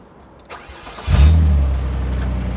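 A Renault Clio V6, recovered after breaking down late at night, cranks briefly and then fires into a loud, deep idle that settles and holds steady up close.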